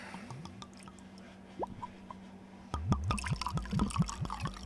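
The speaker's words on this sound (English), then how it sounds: "Can you hear that pouring up?" Liquid pours in close up, starting as soft drips and trickles and then turning into a steady run of rhythmic glugs, moderately loud with no talk over it.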